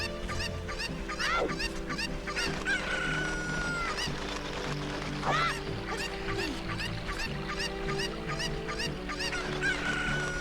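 Chicken calls from Zelda: Ocarina of Time on the N64, repeated squawks and crowing-like cries over a busy game soundscape with steady background music.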